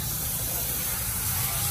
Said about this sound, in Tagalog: Nakita niyo siguro itong spray na parang jet spray pump papunta sa face ko